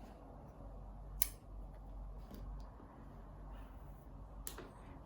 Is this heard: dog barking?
no